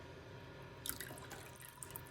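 Water dripping and trickling through a strainer full of freshly rinsed vegetables in a kitchen, a quiet patter of small drops that briefly picks up partway through.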